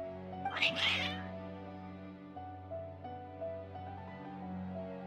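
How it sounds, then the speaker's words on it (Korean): In Genshin Impact, a cat meows loudly once, followed by softer mewing over a sustained musical drone with steady tones. "고양이들이 갑자기 널 적대시하는 것 같은데"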